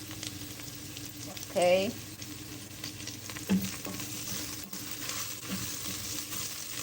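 Spices and garlic sautéing in a pan give a steady sizzle, with a brief stirring scrape and a short spoken word over the frying noise.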